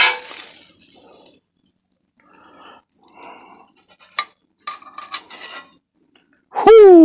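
Corned beef hash scooped from a pan onto a toasted bun, with close metal utensil scrapes and clinks against cookware in short, irregular bursts, ending in a loud squeal.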